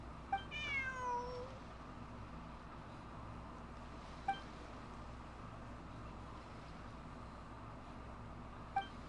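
In Genshin Impact, a cat gives one short rising meow near the start, heard over a low ambient background hum, followed by a couple of faint clinks.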